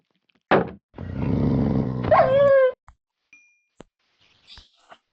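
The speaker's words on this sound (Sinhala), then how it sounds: "මෙන්න ඉන්න බල්ලෙක්." A dog mob in the Minecraft video game gives a short synthetic bark and growl among game sounds, followed by a brief rising whine, with a few faint clicks after.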